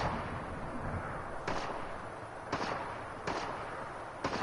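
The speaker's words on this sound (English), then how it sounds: "Oh, they were not shooting at me." Distant gunfire in the video game Fortnite, several muffled bursts at irregular intervals over a steady background hum, with no talk during them.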